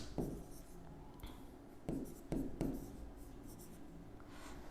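Marker or chalk strokes on a board as the word Antarctic is written, scratchy bursts in short irregular groups, near and moderately quiet, with faint room sound between strokes.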